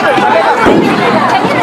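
A dense crowd murmurs and chatters at a Chhath Puja festival gathering, with overlapping voices forming a loud, close, continuous babble.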